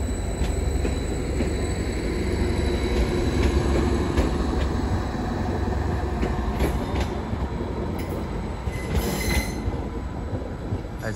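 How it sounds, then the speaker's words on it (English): Greater Anglia class 755 unit 755 403 pulling out of Ipswich station on the 1316 service to Lowestoft, a steady close rumble of the train with wheel and rail noise and faint squeals throughout, no talking. "the 1316 Greater Anglia service to Lowestoft with 755 403 at the helm"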